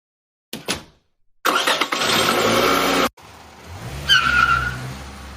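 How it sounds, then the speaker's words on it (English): A car drives up and parks beside a house: a short engine burst, then a loud stretch of revving and tire skidding, a brief pause, and a lower engine rumble as it settles, heard close with no talking. "I parked my car on the side of the house so nobody can see it."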